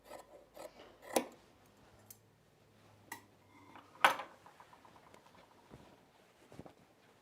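Fabric scissors snip through a paper sewing pattern, several sharp separate cuts spaced irregularly, with soft rustling of paper between them.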